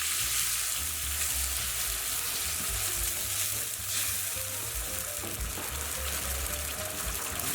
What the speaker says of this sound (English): all we're doing is just browning our kofte, so just on all sides